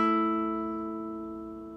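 A single plucked guitar note rings out clearly and decays slowly, played on the 7th fret of the 4th string in a song tutorial, bright and sustained with no talking.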